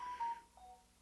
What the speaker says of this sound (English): My Android phone is going crazy.